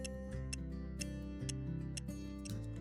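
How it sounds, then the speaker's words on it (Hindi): A programmer machine writing an iPhone WiFi IC gives off steady, regular ticks at about two per second, sitting over a loud, constant tonal hum with no talk. "अब यहां मशीन में आपको टिक टिक टिक टिक टिक टिक आवाज आना शुरू हो जाएगा"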